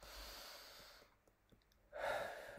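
A single breath during a breathing exercise, a soft airy exhale at first, then a brief quiet gap and a deep, close inhale at the end, with no talking.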